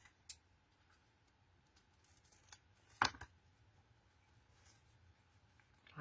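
Scissors snip through folded card while cutting small banner tags, a single crisp close cut standing out against near silence with a few faint ticks and rustles.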